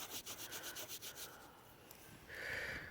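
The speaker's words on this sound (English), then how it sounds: "Rub that on the pants a little bit here." A buffalo nickel rubbed briskly against fabric pants, giving a soft, repeated scratchy swish in quick strokes, then a brief steadier hiss, close and fairly quiet with no talking.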